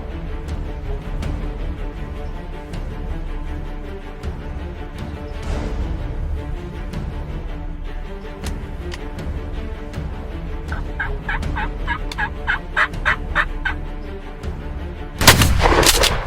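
A single loud, close gunshot fired at a wild turkey during a hunt bursts out near the end, after a stretch of outdoor ambience with rapid repeated turkey gobbles.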